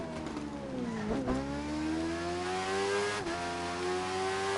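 A Suzuki motorcycle engine in The Crew 2 racing game revs hard and climbs through its gears, its pitch rising steadily and dropping sharply at two shifts before it winds up again, loud and close.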